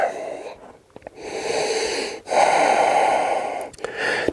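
Slow, audible breaths during a yoga flow: long airy exhales and inhales, close and fairly loud, separated by short pauses, with no talking.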